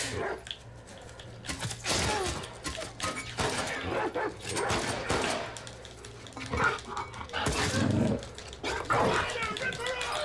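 A dog in The Last of Us Part II barks, yips and snarls while attacking, amid game combat noise, with someone talking loudly over it.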